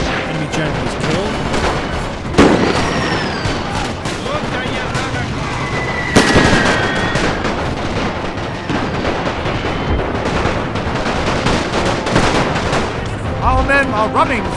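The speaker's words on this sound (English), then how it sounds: "Machine gun bunkers are just winning decisively." Gunfire and heavy artillery crash through a First World War battle in NTW: The Great War, with loud booms near 2.5 and 6 seconds over constant dense shooting and rumble, and a voice talking in places.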